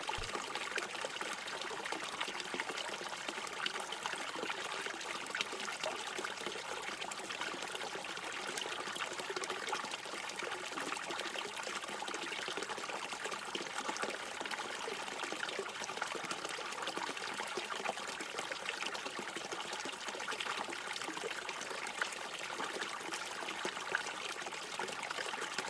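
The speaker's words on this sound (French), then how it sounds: "Vous approchez de la fontaine et vous notez ses contours" Water in a fountain trickling and splashing continuously, a dense, even, moderately close flow with no pauses that runs for the whole stretch.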